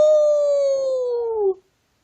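A man imitating a hound dog howl with his voice, a single loud, sustained howl that slowly falls in pitch and ends abruptly after about a second and a half.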